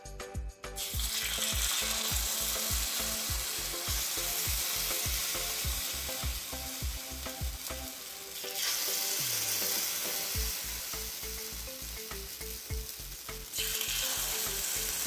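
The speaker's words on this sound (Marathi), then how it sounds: "आप्याच्या भांड्यात थोडं थोडं तेल टाकून घेऊ. तेल टाकल्याने आप्पे भांड्याला न चिटकता चांगले शिजतात." Oil sizzles steadily in an appe pan, a loud continuous crackling fry with regular tapping clinks of a utensil against the metal throughout, briefly easing midway before resuming.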